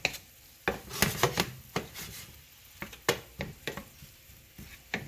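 Vegetables for a frittata cook slowly in a pan, with a soft sizzle under scattered scraping and stirring clatter from a utensil against the pan, close and fairly quiet, no talking.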